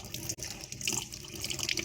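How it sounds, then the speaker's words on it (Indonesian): Running tap water washes aglaonema plants clean of soil, a steady close rush and splash of water with brief gurgling bursts. "proses pencuciannya kita cuci di air mengalir"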